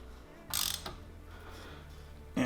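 A ratchet tightens the bolt on a car's timing belt tensioner, producing short bursts of close metallic clicking separated by quieter pauses, with a final burst at the end.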